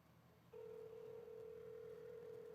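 A phone call rings out over a quiet line, a single steady electronic tone starting after a brief pause and holding evenly, faint and alone.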